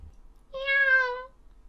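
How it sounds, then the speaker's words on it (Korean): A single cat's meow, clear and close, a drawn-out tonal cry lasting under a second against silence, used as a sound effect in a Korean folk tale about a king at Sangwonsa temple. "어디선가 고양이 한 마리가 나타나 임금의 바지자락을 물고 법당 안으로 못 들어가게 하였습니다."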